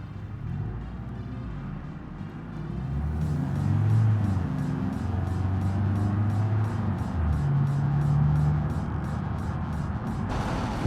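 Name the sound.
naturally aspirated car engine driving in BeamNG video game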